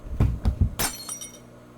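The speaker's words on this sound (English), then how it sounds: "In the middle of the night, we hear a sound of glass smashing." Glass smashes in the video game Ako A Yandere Love Story. A few heavy thuds lead into a bright, sharp shatter, and shards tinkle briefly as it fades.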